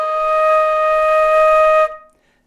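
A flute holds a single E flat note, clear and steady for about two seconds, then stops cleanly, with no voices.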